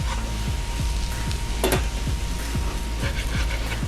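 Taco fillings with onions sizzle steadily in a pan as a spatula scrapes and pushes them around, repeated close scraping strokes over a constant frying hiss.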